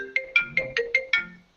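A phone ringtone plays six quick bright electronic tones in an even rhythm, clear and alone, ending after about a second and a half.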